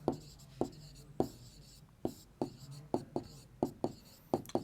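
A pen scratches across paper during a Class 6 algebra lesson, in short, sharp strokes repeating about every half second, close and clear.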